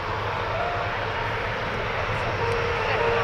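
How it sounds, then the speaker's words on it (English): A BAC Jet Provost T5A jet flying at Cosford Airshow gives a steady, broad engine roar that holds loud throughout with no break. "BAC Jet Province T5A"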